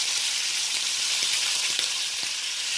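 About four pieces of bacon sizzle in a hot pan, a dense, steady hiss dotted with sharp little pops and crackles, heard up close and alone without speech.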